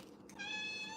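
A cat named Bishop gives a single drawn-out, rising meow, fairly faint against a quiet room.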